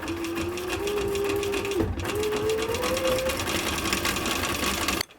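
A sewing machine stitches leather mittens in one continuous close mechanical whir, pausing briefly near the two-second mark before running on and stopping at the end; no one speaks.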